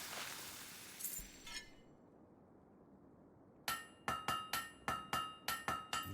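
A hammer strikes a blade at a forge in the video game Fable 3, producing a steady series of about eight bright, ringing metallic clangs after a short clink and a quiet pause.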